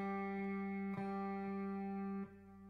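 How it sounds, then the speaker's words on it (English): The open G, or third string, of a guitar rings out clearly and sustains, plucked again twice so each fresh attack blooms over the steady, close tone. "So this is your G string."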